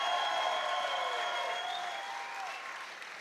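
A crowd applauds loudly and steadily at a Muay Thai event after a bout between Connor Goodman and Van Phan, a dense sustained roar of clapping and cheering that fades slightly toward the end.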